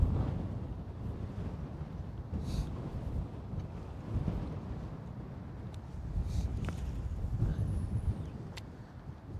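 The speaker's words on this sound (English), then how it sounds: "that wind is doing its thing" Steady wind gusts over a boat on Lake Guntersville during a fishing trip, a continuous low rumble of microphone buffeting that swells and eases throughout, with no talking.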